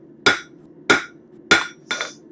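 Four sharp hammer strikes on a metal bird feeder hanger, evenly spaced about half a second apart, close and loud with ringing metallic tails and no talking.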